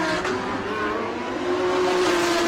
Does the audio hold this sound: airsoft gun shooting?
no